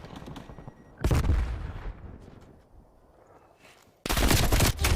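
MP5 submachine gun fire in a Call of Duty match, two loud sustained bursts of rapid shots separated by a fading, rumbling lull, close and harsh.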